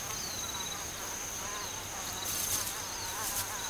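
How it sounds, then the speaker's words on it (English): A female pompilid wasp buzzes steadily among umbrella tree blossoms in Tanzanian thorn tree country, a close, continuous insect drone with thin high tones and faint background chirping. "they won't touch this female pompilid wasp"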